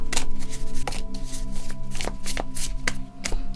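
Tarot cards being shuffled by hand in a steady run of crisp, close riffling and slapping bursts, with no talking.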